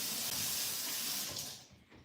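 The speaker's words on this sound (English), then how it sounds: "let me wash this out" A kitchen tap running as a juicer part is rinsed under it, a steady hissing splash of water that fades and trails off as the flow is shut, close and alone without talk.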